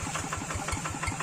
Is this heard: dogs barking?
no